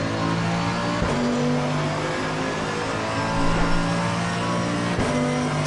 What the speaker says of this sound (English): It's a big old V8.